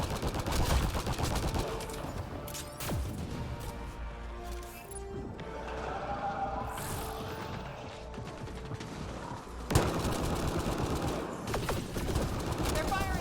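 Enemy gunfire in the shooter Mass Effect Andromeda multiplayer, with bursts of shots and clanking mechanical game effects layered throughout, loud and continuous with a sharp burst near the end, under occasional talk.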